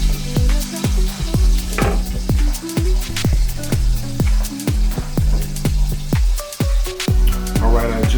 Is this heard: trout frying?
yes